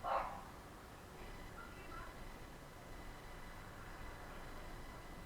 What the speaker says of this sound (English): That dog really needs to shut up.